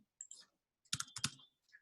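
Quick bursts of clicks from a computer keyboard being typed on, a short cluster of keystrokes near the mic with brief pauses between them, no one talking.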